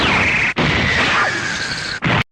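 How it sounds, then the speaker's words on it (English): A loud, sharp, high-pitched synthetic laser effect from the Fist of the North Star anime fight scene rings out in two long bursts, broken by brief cutoffs, with no speech over it. "The sharp noise you hear between the two characters before fully knocking him out was the creation behind putting a laser sound effect to a very high pitched decibel"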